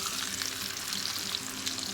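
Salmon fillet sizzling in butter and lemon in a hot pan, a steady close frying hiss with small crackles running evenly throughout, no talking over it.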